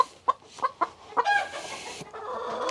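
Isa Brown hen, an egg-laying breed also called Golden Comet, clucking up close: a series of short sharp clucks spaced irregularly, then a longer drawn-out squawk and rustling.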